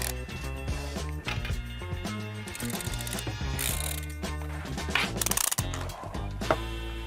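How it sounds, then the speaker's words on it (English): Ratcheting clicks from a twist dial tightening an Adicop Quest 2 battery strap, a close, dense run of mechanical clicking over several seconds, loud and steady with no talk. "This is the only strap I've ever tried that when you turn it this way, it tightens."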